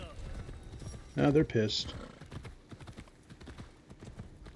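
Horse hooves clop rhythmically on the ground in Assassin's Creed Shadows, moderately close and steady throughout, while someone talks briefly over them.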